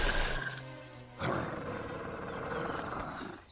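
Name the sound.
wolf growling in cartoon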